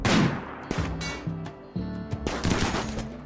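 Gunfire in the colony game Rimworld, with several sharp shots that crack out in quick irregular bursts, some of them clustered like automatic fire, each followed by a brief ringing tail and all fairly loud with no voices.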